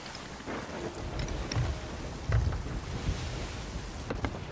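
Thunderstorm at sea in the pirate game Sea of Thieves, with rain and crashing waves churning steadily and a deeper rumble swelling midway, plus a few sharp creaks and knocks from the ship. No one speaks.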